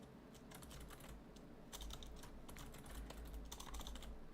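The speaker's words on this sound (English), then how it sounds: "I'm gonna wait till Blazing Orchids is done typing" Rapid, irregular clacking of keys on a computer keyboard runs continuously and fairly close, with no speech and a low steady hum underneath.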